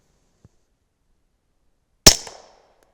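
A single suppressed shot from a Glock 19 fitted with an Omega 36M suppressor, firing a light load into a dirt berm: one sharp, loud crack with a short ringing decay, preceded by a faint click.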